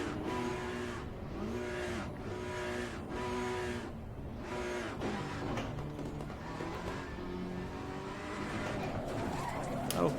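A race car in Assetto Corsa Competizione, Ferrari content at the Hungaroring, spins out with a rising, falling engine drone and repeated tire squeals and skids, loud and continuous.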